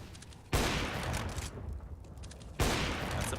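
Counter-Strike: Global Offensive gunfire on the Inferno map, with two loud, close shots fired through a wall that crack in sharply at the start and again near the end, with a rough, noisy background between them.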